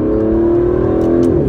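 A 2017 Aston Martin DB11's engine hums with a steady, close, mid-pitched drone while cornering, easing slightly near the end with a faint tick or two over it, and no talking.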